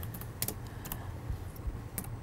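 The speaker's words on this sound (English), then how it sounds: "all we need to do here is click on the field and type in the description that we want" Someone types on a computer keyboard close by, producing a quick, uneven run of sharp clicking keystrokes over a quiet background.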